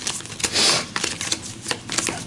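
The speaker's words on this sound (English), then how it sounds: "Yellow is going to rest, so shuffle your cards" Playing cards are shuffled during a tabletop board game, with rapid riffling bursts and soft flutters close by for a couple of seconds, no talking.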